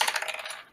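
Dice tumble and rattle across a hard surface for a stamina roll in a tabletop role-playing game, a brief, quiet clatter of clicks that fades out within a second.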